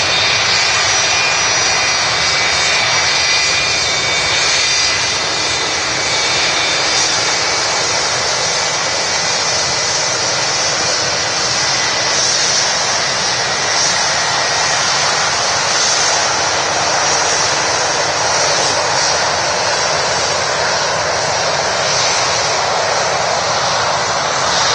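A Qatar Airways Boeing 777 at Manchester Airport gives a loud, unbroken jet engine roar that holds steady for about twenty-five seconds, with no talking over it.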